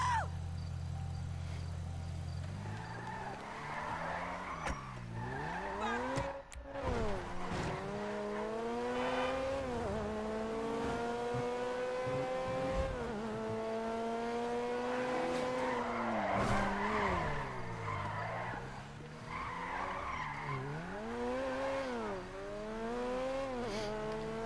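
A video game car drives and skids continuously, engine pitch rising and falling through gear changes while tires squeal in long slides, loud and close throughout with no talk.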